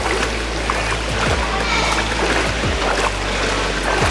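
A swimmer's flutter kick on a kickboard churns the water of a pool, making steady, loud, close splashing that runs without a break.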